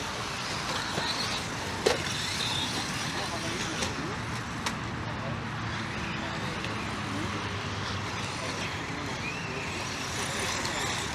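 A Traxxas Rustler 4x4 RC car fitted with buggy wheels drives at high throttle outdoors, a steady buzzing motor whine with road noise throughout, under someone talking.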